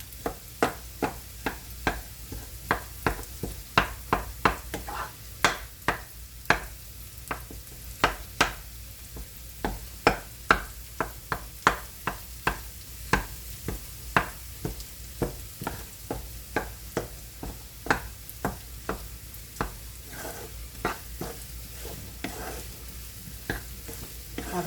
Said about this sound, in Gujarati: એટલે આપણે ધીમા ગેસે શેકવાની છે.